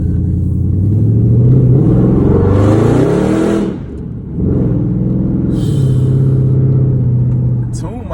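A tuned Dodge Charger SRT8 engine pulls hard from inside the car, its loud rising roar climbing through revs, dipping briefly at a shift, then surging again under a low rumble.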